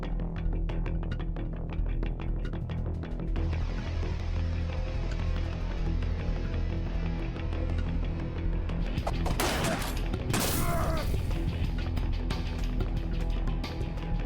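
Grenade blast in the Dustwind: Resistance video game, a loud burst of crashing, debris-filled noise bursting out mid-clip over steady battle rumble and scattered gunfire, then trailing off.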